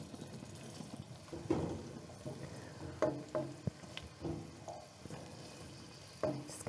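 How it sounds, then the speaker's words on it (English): Chunky vegetables sauté in rosemary-infused oil with a soft, steady sizzle, broken by a few clattering knocks and scrapes of stirring in the pan. "these have been sauteing for a couple of minutes now"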